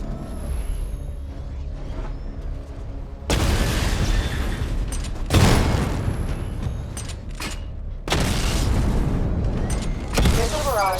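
Weapon fire and targets exploding during a missile-barrage training stage in the video game Batman Arkham Knight: dense, rumbling mechanical bursts and heavy booms that surge repeatedly over a continuous loud din.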